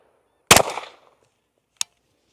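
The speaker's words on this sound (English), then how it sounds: "I'm gonna take another shot just to verify." A single rifle shot fired while sighting in the scope: one sharp crack with a short decaying tail, then a faint click a moment later, with no talking.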